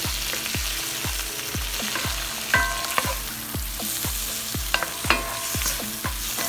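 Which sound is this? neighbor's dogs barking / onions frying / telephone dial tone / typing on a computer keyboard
onions frying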